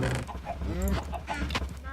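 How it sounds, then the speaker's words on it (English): Chickens in a small Minecraft-style video game chicken farm, clucking and squawking repeatedly over a steady background hum, close and moderately loud. "And also I have a little chicken farm to get me some feathers and some raw chicken"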